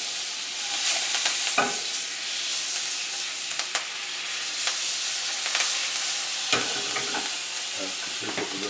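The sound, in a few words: beef tenderloin sizzling in pan as it is turned over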